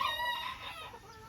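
Mini Garnisé bantam chickens in a pen give a short burst of clucking and crowing calls, fairly close and moderately loud, fading slightly toward the end.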